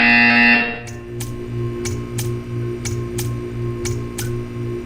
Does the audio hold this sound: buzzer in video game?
yes